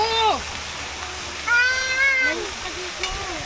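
A cat meows in a few short rising and falling cries at a beach stay in Iba, Zambales, fairly close, mixed with a voice talking and running water in the background.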